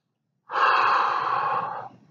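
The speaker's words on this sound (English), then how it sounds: "take a deep cleansing breath" A single deep cleansing breath is taken as a golf relaxation cue, a close, loud, airy inhale-exhale rush lasting over a second after silence, then fading.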